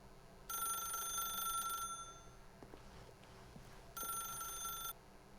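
An electronic telephone rings twice. The first ring is long, and after a pause with faint shuffling a shorter second ring follows.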